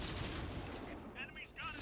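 Gunfire and booms from a World of Tanks battle played on PS4 with the Leichttraktor and M2 Light Tank, a dense, rumbling mix of shots and impacts under quieter game sounds, with a few brief higher whines near the end.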